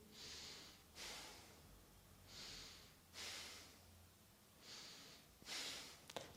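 Slow, deep breaths during a moon-phase yoga session, about five long airy inhales and exhales rising and falling in a steady rhythm, close and soft, with nobody speaking.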